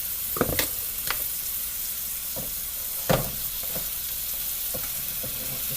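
Tomatoes go into a pan of chayote chowder with minced garlic and sizzle quietly and steadily, with a few sharp clicks and scrapes of stirring utensils against the pan.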